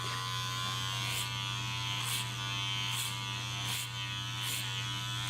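Electric hair clippers buzzing during clipper-over-comb cutting of a flat top, a steady close hum with a low drone beneath and regular brief bursts as the blades pass through hair.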